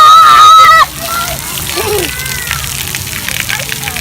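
Water splashes and sloshes onto someone's feet, a lively wet spatter following a loud opening moment with voices talking over it.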